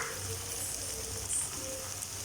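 Eggs frying in a pan with capsicum and turmeric for a capsicum egg poriyal give a steady, even sizzle throughout with no voices.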